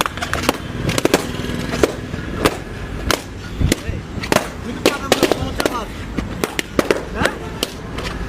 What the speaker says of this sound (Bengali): বাজি।